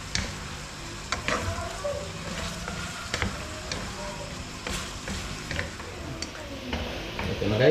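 Garlic and onions frying on their own in cooking oil, a steady sizzle with scattered ticks and light clinks of a utensil stirring the pan, close and continuous at moderate level.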